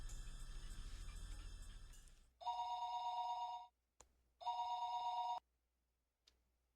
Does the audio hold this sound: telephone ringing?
yes